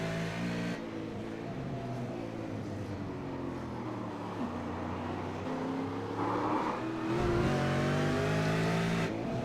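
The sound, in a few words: race car engine shifting gears on board, Oran Park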